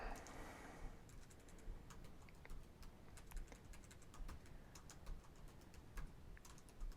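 A search query typed on a computer keyboard, quick irregular key clicks close and quiet, steady tapping over a soft background hiss with no talk.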